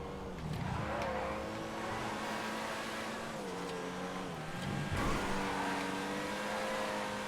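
A Comet Retro sports car drives in GTA FiveM, its engine droning steadily with rises and falls in pitch as it accelerates and shifts, close and continuous.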